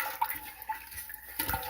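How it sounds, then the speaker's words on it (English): Water pours and splashes into a water bath canner for home canning sweet relish in a kitchen, a steady hissing rush with a few brief louder spurts, close by and without talk. "while I am doing this, I'm going to be putting water in my water bath canner"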